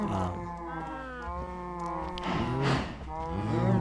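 Cows in a Minecraft cow breeder moo in long, overlapping low calls, loud and near, one after another over a few seconds.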